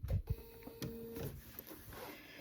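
Sewing machine back stitching across an apron pocket to reinforce it, giving a short mechanical whirring run with clicks and thumps, quiet and close, with no talking.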